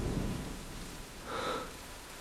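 Steady rain falling, a soft broad hiss that runs the whole time, with a low rumble early on and a slightly louder patch near the end.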